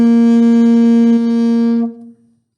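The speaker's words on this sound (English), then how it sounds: "our final note that we're going to talk about today is your G." A saxophone sustains a loud, close note G, fingered 1, 2 and 3, for nearly two seconds with a slight wobble partway through before it cuts off and rings away, unaccompanied.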